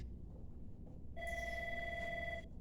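A bat phone rings with a steady electronic ring tone that starts partway through, a low murmur of room noise running beneath it, with no talking.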